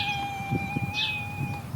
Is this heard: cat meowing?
yes